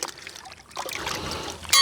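Water squeezed from a wet sponge into tile adhesive, a brief soft trickle and splash up close after a quiet start, with no talking.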